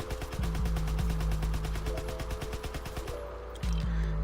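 Grease Gun submachine gun fired in Call of Duty WW2, a sustained rapid automatic burst of evenly spaced shots lasting about three seconds, then a brief pause and renewed fire.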